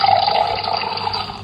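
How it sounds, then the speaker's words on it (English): Water-pouring sound effect from a LeapFrog talking dictionary toy, a loud steady gush of flowing liquid lasting about a second and a half, slightly fading toward the end. "To pour, you make something like water flow"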